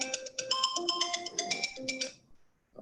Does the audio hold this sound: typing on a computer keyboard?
no